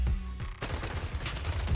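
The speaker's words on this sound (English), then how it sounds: "A sharp gunshot echoes from not far away" Gunfire sound effect: a sharp single gunshot cracks near the start, then after a brief lull a dense burst of rapid, repeated shots erupts and continues loudly to the end.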